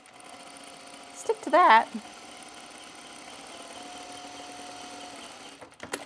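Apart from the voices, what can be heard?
sewing machine stitching the neck seam of a jacket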